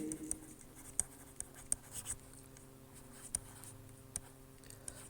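Chalk or marker writing on a board in a lecture room, a series of short irregular taps and scratches over a faint background hum, with no voice.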